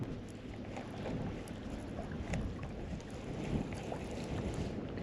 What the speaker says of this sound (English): Man, I'm really just amazed at how much this wind has picked up.